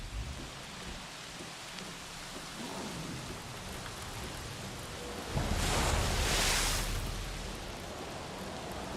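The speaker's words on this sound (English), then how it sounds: "Contact made with storm." Steady heavy rain pours across the whole stretch, with a louder rumble of thunder swelling briefly partway through as a storm approaches; no one speaks.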